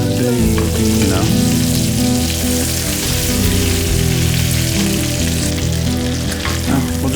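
A peppered sirloin steak sizzles loudly in a hot pan, a dense, continuous crackle and hiss of frying fat, close up, with a low musical hum running underneath.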